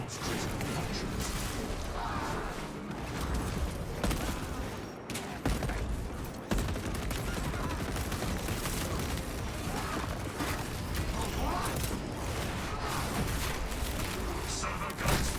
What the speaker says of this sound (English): Servo gun is fully operational. Let the servo gun do its job.